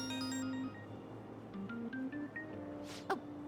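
Phone ringtone in Persona 5 Royal, a short melodic electronic tone sequence of sustained and stepping notes, clear and moderately loud, followed by a brief soft rustle.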